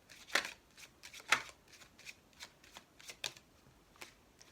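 A deck of oracle cards, the Oracle des Miroirs, is shuffled by hand in quick uneven riffles and flicks, crisp papery bursts spaced across several seconds, near and fairly quiet.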